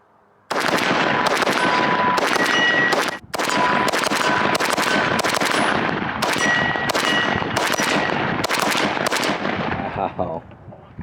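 An AK-pattern rifle chambered in 5.56 firing Tula 55-grain steel-case hollow points in a long, loud, steady string of rapid shots with one brief pause, then the firing trails off.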